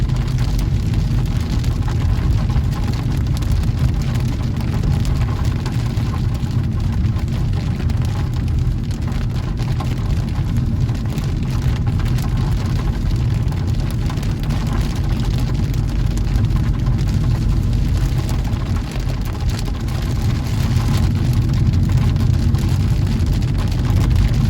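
Heavy rain from a violent thunderstorm drums on a car driving home from work in Seine-Maritime, a dense, steady roar with road and engine rumble underneath, continuous and loud throughout.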